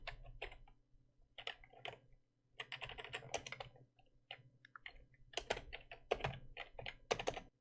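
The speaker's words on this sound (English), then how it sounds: "So let's type in here another comment." Someone types code on a computer keyboard in quick irregular bursts of close, crisp key clicks, with short pauses between runs of keystrokes and no speech.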